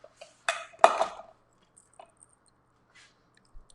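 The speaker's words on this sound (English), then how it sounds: "I know I don't like that scraping sound either." Food is scraped out of a container in a home kitchen while freezer meals are being prepared: two close, loud scraping bursts in quick succession, then a few faint, scattered clinks and taps.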